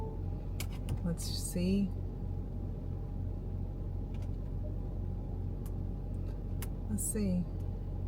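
Steady low engine rumble and road noise inside a car driving through New York City, constant throughout, with a person talking briefly over it.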